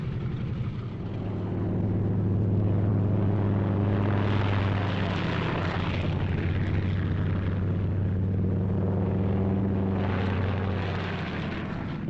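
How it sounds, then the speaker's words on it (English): WWII military aircraft roaring on takeoff in pairs, a loud continuous droning engine sound that swells and holds steady, with faint narration underneath. "Takeoff by twos on the quarter minute"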